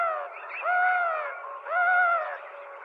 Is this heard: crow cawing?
yes